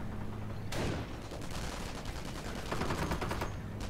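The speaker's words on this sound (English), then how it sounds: "He's getting pinned by some 57mm AT guns" 57mm anti-tank guns firing in a World War II strategy video game, a loud sharp blast followed by rapid overlapping gunfire and repeated shots crackling through the rest of the moment.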